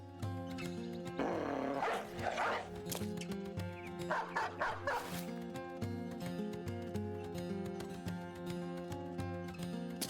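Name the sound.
dog barking in video game Battle Brothers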